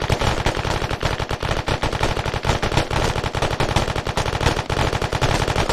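A military video game delivers sustained machine gun fire, rapid loud close bursts that run continuously with only brief gaps.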